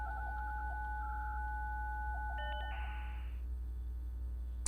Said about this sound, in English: Oh god, dial up.